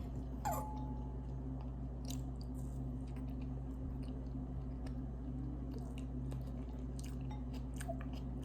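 Close, quiet chewing of chocolate-dipped cake: soft squishy bites and moist mouth sounds repeat irregularly over a low steady background hum, with no talking.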